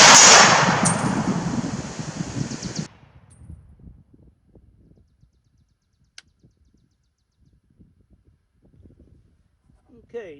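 A Springfield M1C Garand rifle with an M82 scope fires one loud, sharp shot outdoors, and its rumbling echo rolls away over a few seconds into near silence.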